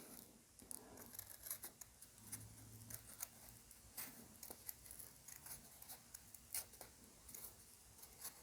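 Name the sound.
scissors cutting folded paper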